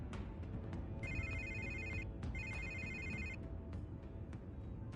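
A telephone rings inside a Batman video game, two long electronic ring bursts with a short gap between them, heard clearly over a steady background hum of game ambience.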